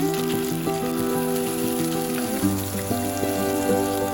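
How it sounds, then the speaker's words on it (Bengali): Salt-and-turmeric-coated fish pieces frying in hot oil for a Bengali coriander fish curry, a steady loud sizzle filling the whole stretch, with a background tone running beneath it. "গরম হলে আমি একে একে নুন হলুদ মাখিয়ে রাখা মাছগুলোকে দিয়ে দেব ভাজার জন্য"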